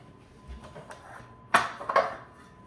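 A muffin pan for zucchini chocolate chunk walnut muffins is handled and set down, giving a few soft knocks and then two sharper metallic clanks close by, with no talk.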